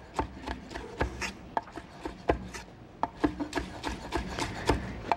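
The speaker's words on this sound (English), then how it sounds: "And just chop those up." A knife chops sun-dried tomatoes and artichoke hearts on a wooden board, with steady, uneven knocks and soft rubbing scrapes between them and no talking.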